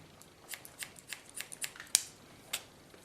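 Scissors snip through curly hair during a summer haircut in a salon, a quick, irregular run of about ten crisp, close metallic cuts over a quiet background.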